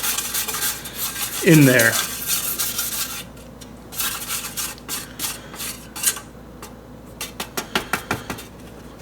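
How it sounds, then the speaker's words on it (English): A spoon or spatula scraping around the sides of a bowl while making homemade CBD oil, giving a run of close rasping strokes followed by lighter clicks and taps, with a brief voice speaking early on. "you're going to kind of like scoop the sides"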